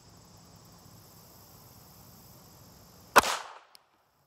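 A single sharp .380 pistol shot cracks out during target practice, loud and near, with a short decaying tail after a quiet stretch of faint background hiss.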